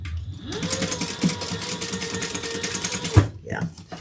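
A sewing machine stitches fabric, starting up with a rising whir and then running a steady, rapid mechanical chatter for about three seconds before stopping, close by, with a voice talking faintly alongside.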